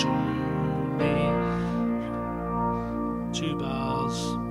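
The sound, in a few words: Nord Stage 3 keyboard ending on B flat with rotary speaker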